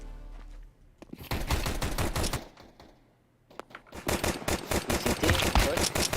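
Rapid automatic gunfire in a video game shooter, two long bursts of dense, crackling shots separated by a short lull, loud and close.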